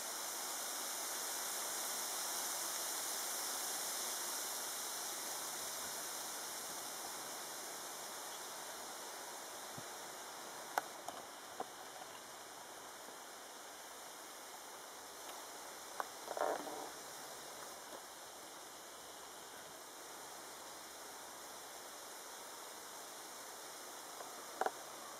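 Faint, steady rushing of a stream or small waterfall out in green countryside, a soft continuous wash with a few brief clicks and knocks now and then, no one speaking.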